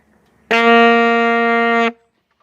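A single held alto saxophone G note, steady and clear, sounds for about a second and a half, then stops cleanly into silence.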